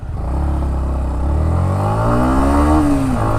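A 2021 Yamaha MT-15 BS6 motorcycle engine revs hard past 7,000 RPM as its VVA engages. The loud, close engine note climbs steadily in pitch, then drops sharply near the end.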